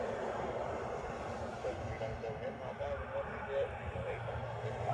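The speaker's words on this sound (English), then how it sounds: "And that 737-200 is on its way out again" Boeing 737-200 jet departing on the reef runway at Honolulu, heard as a steady, continuous low engine roar filling the background throughout, with people talking over it.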